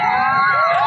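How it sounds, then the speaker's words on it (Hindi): A large crowd of fans gathers in Chakiya to see Mani Meraj, a dense, continuous roar of many voices with cheering and shouting, loud and close throughout. "देख सकते हैं काफ़ी यहाँ भीड़ लगी हुई है"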